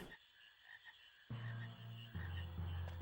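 A frog croaks in the video game Final Fantasy IX, with low, steady croaking starting partway through and continuing in sustained pulses over a faint, constant background hum.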